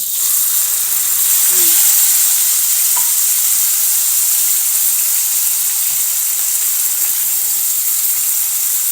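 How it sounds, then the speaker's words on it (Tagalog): Pork and vegetables sautéed in a hot pan for a stir fry, a loud, continuous hiss and sizzle from start to finish, with faint stirring scrapes. "Gisa-gisa dito."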